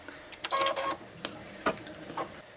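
Embroidery machine stitching a cutout stitch on fabric, giving quiet irregular mechanical clicks and short whirring bursts at close range, with no talking.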